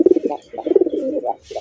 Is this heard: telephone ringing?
no